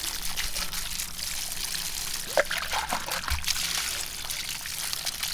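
Water gushes and trickles steadily from a 50-foot garden hose of an irrigation system, a continuous splashing flow with a few sharper knocks and splashes partway through.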